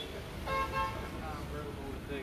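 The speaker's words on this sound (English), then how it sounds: "others are driving around honking" Car horns toot briefly from vehicles driving past during a drive-by protest over a proposed Chick-fil-A in Camp Hill, a couple of short honks over road traffic noise and talk.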